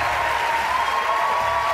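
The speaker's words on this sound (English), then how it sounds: "It's a very rowdy crowd." Dense, sustained applause with cheering from a rowdy crowd at a CNN presidential candidate town hall at Drake University in Des Moines, Iowa, loud and continuous throughout.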